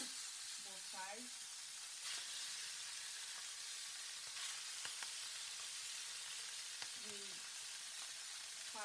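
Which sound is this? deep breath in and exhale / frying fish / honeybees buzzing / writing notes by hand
frying fish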